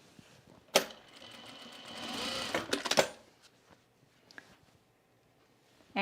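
A sewing machine runs in a short continuous burst while sewing French seams on a shirt, bracketed by sharp clicks and clunks, followed by a few faint knocks and near quiet.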